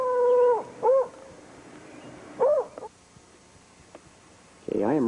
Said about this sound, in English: Here's the attack dog here.